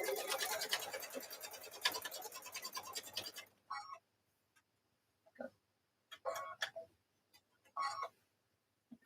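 A sewing machine stitches towel corners with a steady rapid whirring run of needle strokes, then stops; short bursts of stitching and handling clicks follow with quiet gaps between them.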